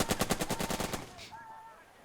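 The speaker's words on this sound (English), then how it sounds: "I will daunt you with this machine gun." Rapid burst of machine gun fire in the WWII tactics game Burden of Command, about a dozen evenly spaced shots for a second before fading into quiet background tones.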